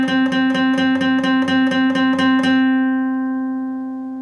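Guitar note on the 10th fret of the D string in a riff, picked in a quick even run of about ten strokes, then left to ring out and fade, close and clear with no voices.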